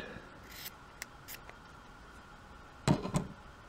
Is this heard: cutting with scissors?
yes